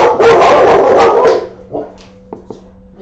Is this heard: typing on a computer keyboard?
no